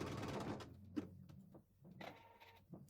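A sewing machine stitching an in-the-hoop gift card holder, run by foot control, with short bursts of mechanical whirring that speed up and slow down, separated by brief quiet gaps, close and fairly soft.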